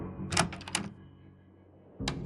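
Lounge door in a video game, a cluster of sharp clicking and rattling handle knocks early on, then a quiet pause and one more crisp clack near the end, close and clear without talking.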